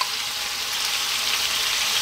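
Sliced onion hitting hot oil in a pan, a bright steady sizzle that holds constant and fairly loud throughout, with no voices.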